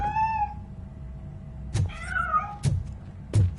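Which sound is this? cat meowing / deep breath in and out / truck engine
cat meowing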